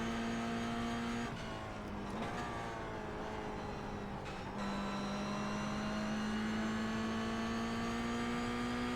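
Several race cars from the iRacing game circle Las Vegas in heavy traffic, engines droning loudly and steadily with rising and falling pitch as cars shift and pass closely, no voices.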